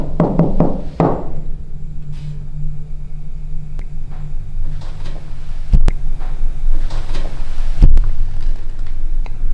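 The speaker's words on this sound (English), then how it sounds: "I tapped twice" Two sharp taps on a hard surface inside an old bottle museum, spaced about two seconds apart over a constant low hum, after a quick cluster of knocks at the start.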